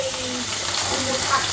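Cut potatoes hiss and sizzle in hot oil in a pan for an okra stir-fry, a steady close frying crackle across the short moment.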